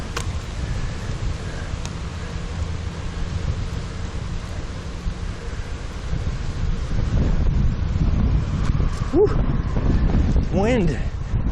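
Strong wind roaring steadily against a microphone while riding a bike outdoors near Lake Norman, North Carolina, a dense continuous rush that grows louder toward the end, with brief voice sounds near the close.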